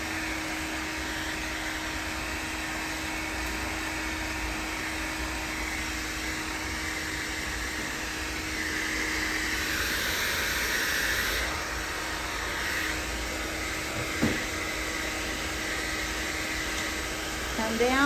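Hair dryer blow-drying hair with a round brush, a steady mid-level whooshing hiss of airflow running throughout, briefly louder partway through, with a faint voice.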